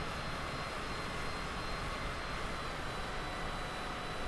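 Private jet engine in Microsoft Flight Simulator on approach from Liverpool to the Isle of Man, a steady, broadband roar held at an even level throughout.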